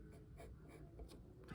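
Pencil sketching the bridge of a nose on paper for a head drawn tilted up in three-quarter view, soft scratchy strokes repeating in short bursts, quiet and close, with no voices.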